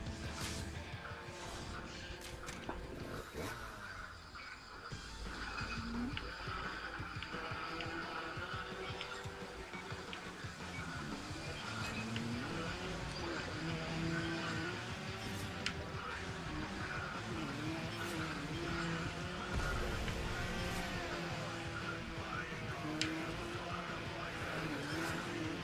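Motorbike riding in the video game Trials Evolution: continuous revving engine with shifting pitch, tire noise and game effects, loud and sustained throughout, with faint talk underneath.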